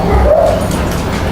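Dogs bark from behind fence lines at a place where other dogs are everywhere, a close, steady run of yipping barks and whimpers lasting about a second.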